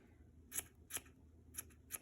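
Scissors snip at a yarn pom pom in four quick, quiet cuts spaced about half a second apart, each a crisp metallic click over faint room hiss.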